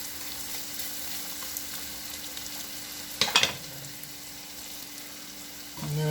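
Extra large shrimp fry in a pan with a steady, fairly quiet sizzle throughout, joined by a brief louder crackle of spattering midway and a thump as the pan is moved near the end.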